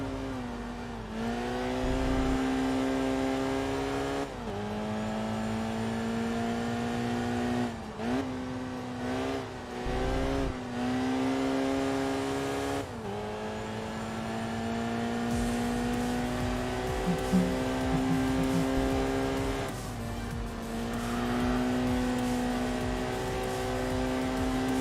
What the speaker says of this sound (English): Little turbocharged inline 3 cylinders, 63 horsepower.